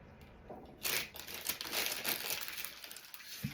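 Plastic piping bag set inside a mason jar crinkles and rustles as a cheese lasagna filling is spooned in, a close, continuous crackle of handled plastic lasting a few seconds without talk.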